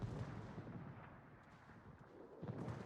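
A naval gun salvo is fired at the cruiser Des Moines in the World of Warships video game. Heavy booming blasts are followed by a rolling rumble, with a fresh loud burst near the end. There is no talking.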